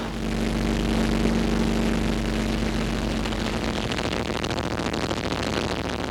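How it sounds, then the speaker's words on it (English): A small airplane engine running rough before an emergency landing: a loud, continuous propeller drone that fills the whole stretch, close and unbroken, with no voices. "The engine is really running rough, and the end of that runway isn't starting to look very sure."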